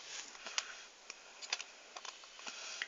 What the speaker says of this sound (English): What I'm going to do first is just cut these 3 little things just here